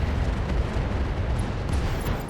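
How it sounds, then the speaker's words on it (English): LRM ammunition exploding inside a destroyed Ghost mech in the RogueTech BattleTech game, heard as a loud, sustained low rumbling blast that fills the whole moment with dense, roaring explosive noise. "LRM ammo explosion."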